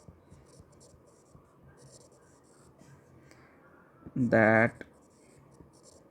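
Chalk or marker scratches softly against a board in a thermodynamics lecture, faint and intermittent, before a short spoken word briefly rises over it.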